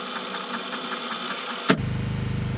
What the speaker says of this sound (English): I found the generator and a tank of gas in a little alcove on the side of the cottage near the tree line.